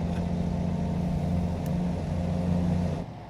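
A Volvo truck engine in American Truck Simulator drones steadily at a low, even pitch, loud and close throughout, then drops away abruptly near the end.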